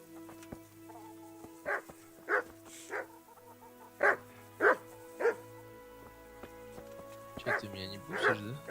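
Several dogs bark in the game Kingdom Come: Deliverance, a string of sharp, fairly close barks in loose bursts with pauses between. Someone talks at times between the barks.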